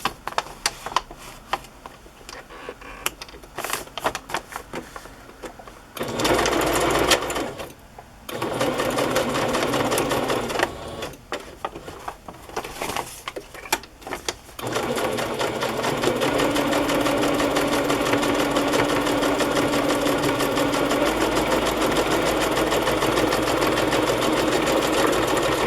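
A sewing machine stitching fabric pockets, a steady close whirring hum that starts and stops in short runs, then settles into one long continuous stretch of stitching.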